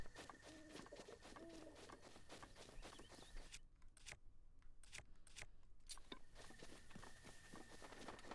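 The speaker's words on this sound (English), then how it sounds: "Oh, birds." Birds in the video game Breath of the Wild, soft cooing and chirping calls near the start and end, with light scuffing footstep-like taps and a quieter gap in the middle.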